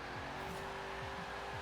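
A 1968 Pontiac Firebird drag car in Forza Horizon 4 doing a burnout, a loud sustained engine roar with a constant tire-squealing hiss over the short moment.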